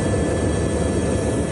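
A gendarmerie helicopter flying over Mayotte after Cyclone Chido, heard from on board as a loud, constant, dense rotor and engine roar with no pauses.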